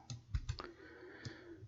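Keys pressed on a computer keyboard, including F9, a few soft scattered clicks, close and quiet.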